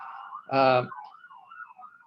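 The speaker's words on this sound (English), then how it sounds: "you can hear with the ambulance going by that I'm still at the hospital" An ambulance siren passes outside a hospital, a wavering wail rising and falling at moderate distance after a brief louder harmonic blast.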